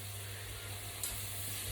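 Onions sizzling gently in a pan with salt added, a steady soft frying hiss throughout with a brief scrape or stir near the middle, no talking.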